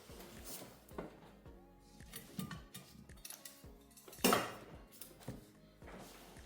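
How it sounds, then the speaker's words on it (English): Metal step ladder handled in a workshop during a Ford Expedition sensor repair, giving a series of close clanks, taps and rattles with one sharp louder clack near the end, no talking. "So we've got a step ladder."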